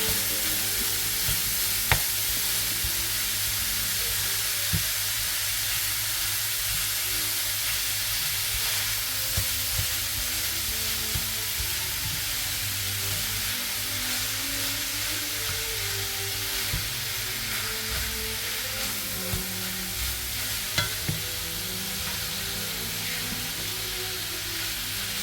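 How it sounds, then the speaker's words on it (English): Beef mince sizzles steadily in a hot pan for nearly half a minute, a constant close hiss with faint scrapes and taps as a wooden spoon breaks it up. "I'm going to use a wooden spoon to break the mince, to break it down and cook until they're nice and brown"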